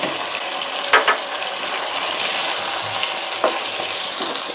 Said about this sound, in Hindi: इसमें अदरक लहसुन का पेस्ट ऐड कर रही हूँ